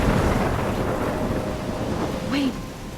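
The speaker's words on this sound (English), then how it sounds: "I'm trapped in a storm?" A thunderstorm rumbles with heavy rain and steady wind, producing a dense, loud roar throughout, while a faint voice-like sound rises briefly near the end.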